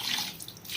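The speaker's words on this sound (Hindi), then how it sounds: "हम पानी ऐड करेंगे इतना कि ये हमारा डूब जाए" Water pours into a pot of soaked rice, a short, close splashing gurgle that fades slightly as the pour settles.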